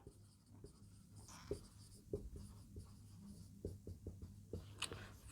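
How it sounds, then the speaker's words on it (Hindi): Marker or chalk writing out a sentence on a classroom board, a run of quick scratchy strokes and taps in an irregular rhythm, close and fairly faint with no voice over it. "अगर मैं एक सेंटेंस और लिख दूं"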